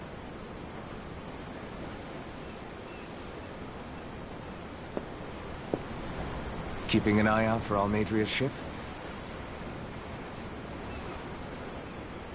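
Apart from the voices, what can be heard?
ocean waves in the video game Tales of Arise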